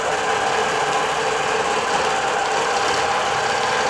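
Digital quilting sewing machine stitching steadily with 40-weight Polysheen thread, a constant loud mechanical hum and rattle with no pauses and no voices.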